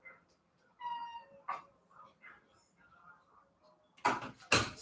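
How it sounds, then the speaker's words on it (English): A cat meows near a closed door, wanting to be let in, giving a clear tonal meow followed by softer short calls. A couple of loud bursts of noise come near the end. "Let me open the door for this cat before he starts yelling more."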